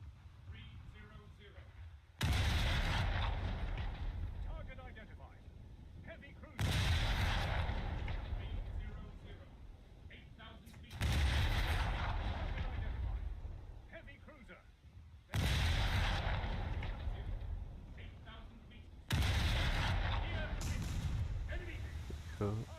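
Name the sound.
naval gunfire in the video game War Thunder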